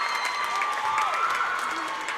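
Crowd at an eighth-grade boys basketball sectional game cheering and applauding steadily, a dense continuous roar of voices and clapping with a whistle-like tone rising over it.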